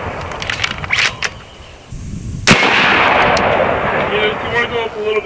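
People talk in the background before a 72 caliber AEA Zeus airgun, 16-inch model, fires one sharp, close shot. A long, loud rumbling decay follows, with voices still faintly present.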